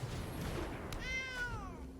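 A single clear cat meow sound effect plays when the Sacred Cat card is put down in a digital card game, rising and then falling over about a second.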